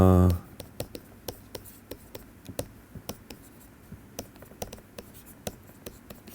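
Chalk or marker taps and scratches on a board during a physics lecture, a steady run of short, sharp strokes at an irregular pace after a brief moment of talk at the start.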